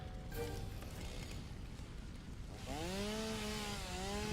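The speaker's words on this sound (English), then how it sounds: "And then let's chainsaw this." A chainsaw in the video game Satisfactory revs up to cut, its rising, warbling engine tone starting partway through and running loud and steady over a dull background hum to the end.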